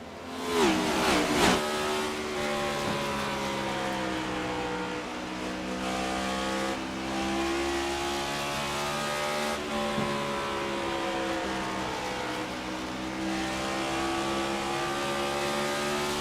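Race cars in a qualifying heat at Bristol roar past in a close pack, engines revving with sustained, shifting harmonic drones after a sharp loud burst at the start, continuous and fairly near with no talk.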